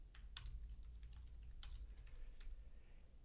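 Keystrokes on a computer keyboard entering a blog post title, a quiet run of irregular clicks with a few sharper taps over a low steady room hum, no voices.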